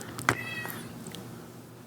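A house cat gives a short meow, then a fainter second one, heard faintly in the background of a quiet indoor room.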